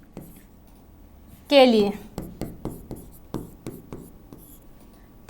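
Marker strokes on a board during a chemistry lesson come as a series of short, crisp taps and scratches, following a brief spoken phrase.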